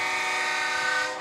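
Train horn blasted at a high school football game, a loud sustained multi-tone blare held steadily for over a second before cutting off.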